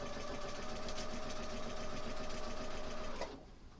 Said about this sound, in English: And a quick stitch.